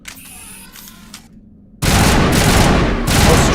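A triple-shot weapon in Mass Effect 1 Legendary Edition goes off after a brief quiet pause, and a loud, dense, crackling burst of gunfire takes over and carries on to the end.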